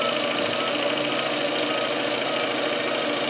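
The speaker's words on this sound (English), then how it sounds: "So the machine is stitching" An Intelliquilter computerized quilting machine stitches a seam along a quilt with a steady, rapid mechanical chatter and hum that holds constant throughout, close and moderately loud, with no voices.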